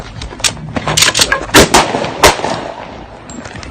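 Several gunshots ring out in a police video, sharp loud cracks spread unevenly over a few seconds with a busy, echoing background and no talk.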